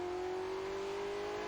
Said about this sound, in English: With a shift of gears and a push of the pedal, the engine growls forward